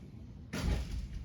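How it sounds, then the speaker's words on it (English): A classroom door shuts with a single sharp thud and latch click, close and fairly loud, followed by a short fading rattle in a quiet room. "I leave the door locked from the outside."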